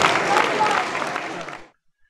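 An audience in a hall applauds a couple celebrating their 50th wedding anniversary, a dense, loud burst of clapping that holds steady for over a second and then stops abruptly.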